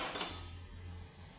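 Onion softened in a pan gets stirred together with crumbled bread and masala, a soft scrape and clink of a utensil against the pan over a low continuous hum, close and fairly quiet.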